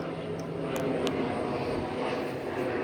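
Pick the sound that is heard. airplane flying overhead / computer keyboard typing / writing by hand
airplane flying overhead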